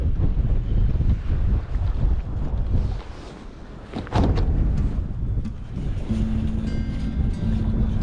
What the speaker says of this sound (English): It is cold in this wind.